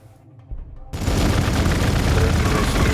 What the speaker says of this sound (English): Grenade first, cause they do damage depending how many guys are. And then we can use the bolter to shoot.